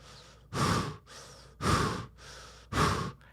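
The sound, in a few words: breathing through a scuba mouthpiece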